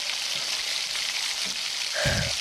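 Whole dried chili, cinnamon, cardamom, cloves and cumin with ground ginger and green chili frying in hot oil, a steady close sizzle that swells briefly as the paste hits the pan near the end.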